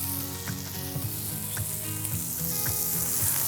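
Onions grill for burgers with a steady, close sizzle and crackle on a hot surface, with faint scraping from stirring.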